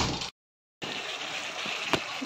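Water is poured into a pan of prawn and potato curry, giving a soft, steady gushing trickle. The flow stops briefly, then resumes and continues to the end.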